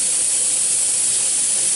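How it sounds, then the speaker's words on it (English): Steady, loud, continuous hiss of steam venting from a pressure canner while home-canning Swiss chard, unbroken and alone. "We want 10 minutes of steam."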